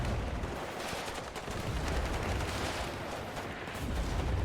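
Gunfire in the video game WARNO comes as dense, continuous crackling bursts of rifle and machine-gun shots over a rumbling background, moderately loud throughout.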